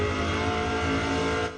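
A door car and a dragster roar down a drag strip in a loud, steady engine blast that holds for over a second before easing off at the end.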